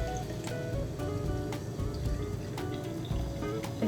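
Sparkling water poured over pureed berry cubes in a glass, a continuous soft fizzing with small ticking bubble pops and faint liquid trickle, close by and steady.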